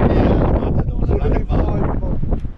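Heavy wind buffets the microphone while a vehicle drives along the West Coast, a loud, constant low rumble with fluctuating gusts that largely masks any voices.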